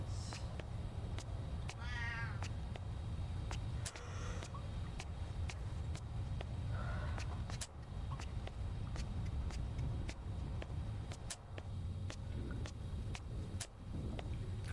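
A kitten gives a short, high meow, then a fainter second one, over a constant low rumble and scattered clicks. Quieter rustling follows.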